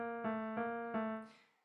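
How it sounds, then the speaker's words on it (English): Three sustained piano-like tones struck in a slow, even rhythm, two notes a half step apart, ringing out and fading at the end. "So when I say half steps, it sounds like this."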